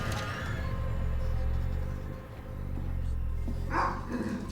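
Dog barking in the VR horror game Transference, played on a Valve Index: a sudden bark bursts out over a low droning game ambience, one sharp outburst partway through with rumbling background continuing around it.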